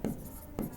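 Chalk or marker scratches out a square root symbol on a classroom board in physics class: two quick, close writing strokes a half second apart.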